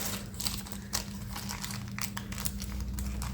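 Rolled datemaki sweet omelette being peeled slowly away, a close, steady crinkling and rustling with small tearing sounds, alone without talk.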